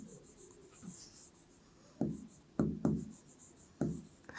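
Close, soft scratching of pen or marker strokes while writing during a Class 8 maths lesson, with a few quiet strokes early on and then four sharper, louder strokes spaced irregularly.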